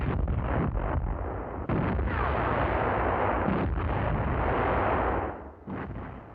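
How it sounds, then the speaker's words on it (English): Infantry guns fire on an enemy position hidden in a wheat field, several heavy booming shots with rumbling echoes overlapping into a continuous barrage. "The fire for effect against Garavense has begun."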